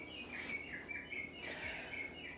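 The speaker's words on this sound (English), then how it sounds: "That's my bird clock." A bird clock on the hour plays recorded birdsong: a few short, faint tweeting phrases repeating in a gentle chirping pattern.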